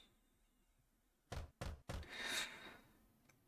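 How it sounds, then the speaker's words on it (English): Three quick knuckle raps on a wooden door in a Katawa Shoujo game scene, close and crisp, followed by a brief rustling sound, with no talk. "I rap my knuckles on her door and she soon calls me in."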